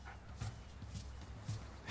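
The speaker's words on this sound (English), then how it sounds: "Let's pet the dog again for good luck." A dog being petted in the video game Civilization 6 gives soft, repeated bark-like and whimpering yelps at close range, over a steady hum of game audio.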